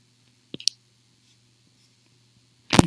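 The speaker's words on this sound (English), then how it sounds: "I'm going to click it" A computer mouse clicks on a button, a couple of sharp close clicks near the start and another louder click at the very end, separated by near silence.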